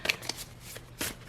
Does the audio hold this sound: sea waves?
no